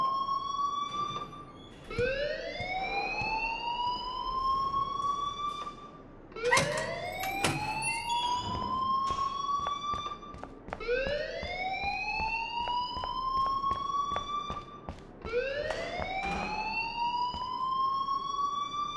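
Alarm in a video game, loud repeating rising electronic whoops, each sweep climbing then cutting off and restarting in a steady cycle, with no voices over it.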